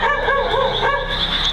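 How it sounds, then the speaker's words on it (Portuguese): A dog barks and yips a few times in the background, short whining calls at moderate distance with a steady hum underneath. "enquanto o dog late ao fundo"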